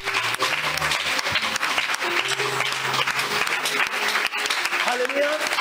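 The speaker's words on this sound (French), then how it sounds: "Est-ce que quelqu'un peut acclamer pour Jésus?" A church congregation at a Sunday service applauds and cheers for Jesus, dense clapping filling the room steadily while voices call out over it.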